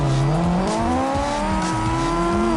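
Two drift cars, a Nissan 240SX and a Sylvia, slide together in CarX Drift Racing, engines wailing and pitching up and down as they rev, with tire squeal mixed in, loud and continuous.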